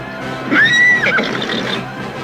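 A horse in a dramatised battle scene gives one loud, close whinny with a rising then falling wavering cry, over a steady background of low rumble and faint hoofbeats.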